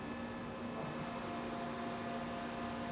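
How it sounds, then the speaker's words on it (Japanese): A CNC machining center's spindle spins at about 4775 rpm before tapping, producing a steady, even whirring drone with a constant high whine and no pauses. "主軸のね回転音が今からタップをするそれではない音になっておりますが"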